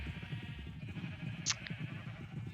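A sheep bleats once in Minecraft, a short high call standing out over a steady background of game music and ambient noise, followed by a fainter second bleat.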